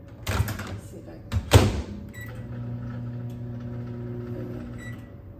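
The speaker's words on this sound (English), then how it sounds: "I'm gonna set this timer on the microwave for 35 minutes." Beeps from a kitchen microwave as its timer is set, a few short tones after some handling clatter, followed by the steady hum of the running oven.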